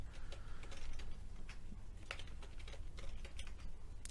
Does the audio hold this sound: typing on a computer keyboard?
yes